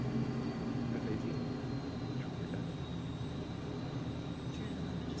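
An F/A-18 jet in Microsoft Flight Simulator gives off a quiet, steady engine drone with a faint high whine running through it continuously.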